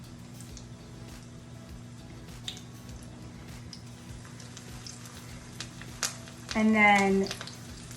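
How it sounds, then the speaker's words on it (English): Patties fry in hot oil with a steady close sizzle dotted with small crackles and pops, and a voice speaks briefly near the end. "these are gonna fry for a couple minutes on each side until they're golden brown"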